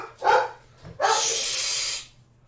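A dog emote in a stream plays a dog barking twice: a short bark, then a longer, harsher one, loud and close with no talk over it.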